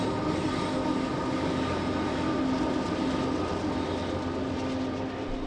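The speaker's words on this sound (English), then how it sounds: "they were met with an approaching train" A train rolls steadily across a trestle, with a continuous loud rumble, the rattle of wagons and a faint squeal of wheels throughout.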